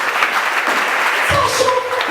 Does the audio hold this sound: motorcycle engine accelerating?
no